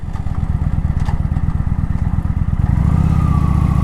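A new motorcycle slows from about 40 mph while its brakes are being broken in. The engine gives a close, loud, steady putter that shifts to a smoother, even drone near the end, with no voices.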